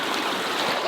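Stream water rushing to fill a natural rock waterslide on a homestead, a steady, close broadband wash of flowing water with no pauses and no voices.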